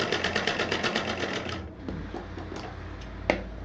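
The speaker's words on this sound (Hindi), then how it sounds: "अब इसको हम ऐसे सादा ही सिल देंगे" A sewing machine runs in a fast, even stitching burst while sewing a plain seam on a purse pocket, then stops, leaving faint handling clicks and rustles.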